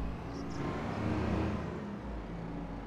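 Tractor engine in Farming Simulator 25, a steady low droning hum that swells slightly, then eases, heard alone without talk.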